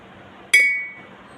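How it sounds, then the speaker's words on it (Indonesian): A single sharp strike on a drinking glass half filled with water, giving a bright close ping that rings on as a clear sustained tone and slowly fades. "gelas yang berisi setengah air akan menghasilkan suara yang lebih keras atau lebih jelas daripada gelas sebelumnya"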